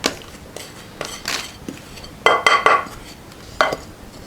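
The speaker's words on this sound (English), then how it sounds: "you take your tin that you lined with your baking paper and you tip all of that delicious mixture into your tin" Cake mixture tipped from a bowl into a tin lined with baking paper, heard as a handful of close scraping clinks and knocks of utensil against bowl and tin, with a brief metallic ring midway; no talk.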